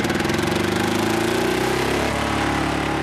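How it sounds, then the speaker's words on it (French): An old diesel walking tractor engine runs steadily with a loud, rapid knocking rhythm and a slight shift in pitch partway through, with no voices. "Ces moteurs diesel-là, ils ont besoin d'une mèche pour pouvoir enflammer le gasoil."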